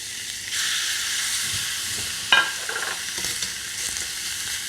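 Marinated lamb laid onto a very hot, dry skillet with no added oil, giving a steady loud sizzle and hiss that runs throughout, with a brief sharper crackle burst partway through as the meat settles.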